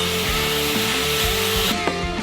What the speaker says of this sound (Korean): 이렇게 선별한 목재를 정교하게 자르고 다듬어서 조립할 수 있게 만드는 것을 치목 작업이라고 합니다